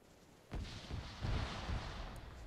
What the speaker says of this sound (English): They're just bombing a civilian center.